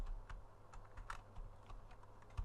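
Computer keyboard keys are tapped in quick, uneven bursts of soft clicks, fairly faint and close, with no talking over them.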